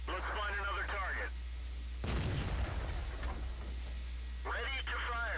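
The SU-85I, a Russian Tier 5 tank destroyer in World of Tanks, fires its gun once, a sudden boom with a rumbling tail, framed by radio-style voices talking before and after.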